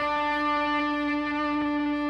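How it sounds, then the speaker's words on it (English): A single fretted electric guitar note on the seventh fret of the third string rings out steadily and alone, with a bright, sustained tone and slight effects coloring, no picking attacks repeated. "So if I were to play the 7th fret on the 3rd string, just a naturally fretted note"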